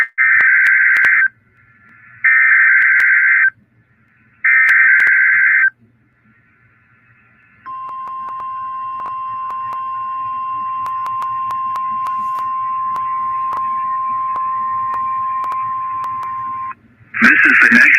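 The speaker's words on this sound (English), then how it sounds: "The preceding signal was a test of the NOAA Weather Radio Warning Alarm device" NOAA Weather Radio sends its warning alarm test signal: three loud, even electronic tone bursts with short gaps, then a long steady tone lasting about nine seconds, followed by another brief burst at the end.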